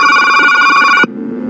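A telephone rings in a steady, loud electronic ringtone for about a second before cutting off abruptly, leaving a quiet low hum, a sound effect in an Indonesian romance audiobook.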